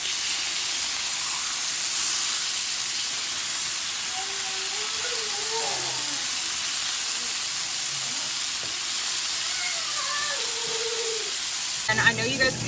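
Korean short ribs glazed with a little sugar sizzle in a hot pan with a loud, steady hiss throughout, while a faint voice talks underneath, partly drowned out, and a clatter comes at the end.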